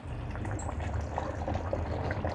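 Chicken masala curry simmers in a pot with a dense, continuous bubbling and popping, steady and close, no voices.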